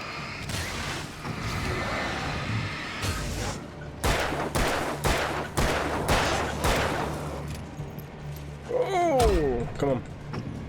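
Automatic weapon fire in the Alan Wake video game, several sharp bursts of rapid shots in the middle of the stretch between quieter in-game sounds, with a voice talking over parts of it.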